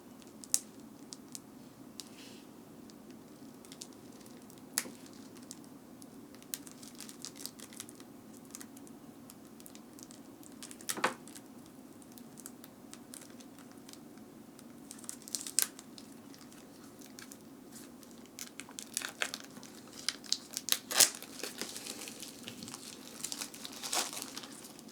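Plastic wrapper on a pack of action cards for the Beast: Shattered Isles card game, torn and crinkled by hand: steady soft crinkling and rustling with occasional sharper crackles and snaps, close and quiet, no voices.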